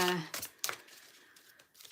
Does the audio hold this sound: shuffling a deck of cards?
yes